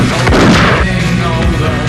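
A gunshot in a heist film trailer, a heavy booming blast with a rumbling tail that fills the whole stretch, loud and close.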